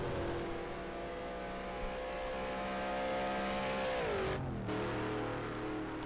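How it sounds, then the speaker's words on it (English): Race car engines in a racing video game, set at Road America, drone loudly with a rising pitch, then drop sharply as a gear shifts before the engine climbs again. "Awesome sounding cars."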